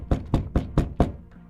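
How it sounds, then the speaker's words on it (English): Five firm knocks on a door in a quick, even rhythm, close and loud, followed by silence. "He knocked on the door a few times."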